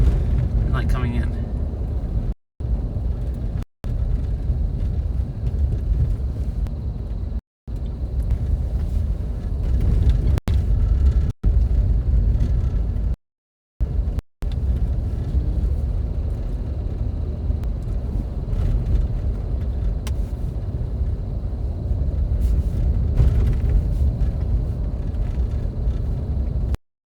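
Big pickup trucks drive up to a mountain overlook, their engines a steady, close low rumble broken by a few brief gaps, with voices talking over it.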